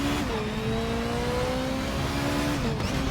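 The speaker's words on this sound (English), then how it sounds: "I just threw a manual downshift in there to engine brake along with regular braking." BMW 320si race car in a racing game: a loud, close engine note drops in pitch under engine braking, then blips and falls again with a manual downshift near the end.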